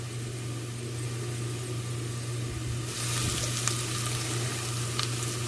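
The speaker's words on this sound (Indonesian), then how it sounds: "Lalu masukkan bawang putih" Garlic fries in hot oil, a steady close sizzle running throughout that grows brighter and louder midway, with a few faint clinks over the top.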